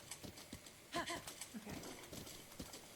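Quiet clip-clop hoofbeats from a horse in a fantasy video game, paired with a short whinny near the middle. Faint game sounds sit around them.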